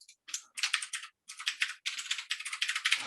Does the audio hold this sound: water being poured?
no